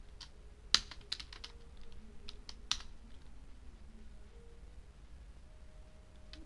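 Computer keyboard typing while code is written, scattered sharp keystrokes in short bursts with pauses, fairly close and clear over a quiet low hum, no talking.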